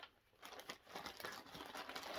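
A clear plastic project bag used for cross-stitch crinkles close up in a quick, irregular run of crackles that continues for a couple of seconds, quiet and with no talk.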